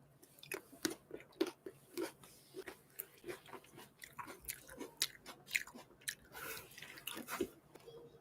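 Wet, smacking chewing and biting from a mukbang eating broadcast, close to the mic, in an irregular run of crunchy clicks and slurps with no talking.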